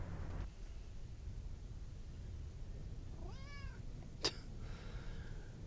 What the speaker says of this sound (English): The cat wants a lot of attention today.